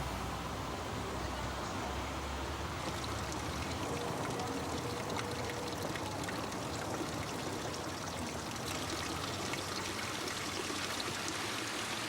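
Mountain stream water rushes and gurgles steadily past old mills, a continuous, even wash of flowing water at moderate level with no voices.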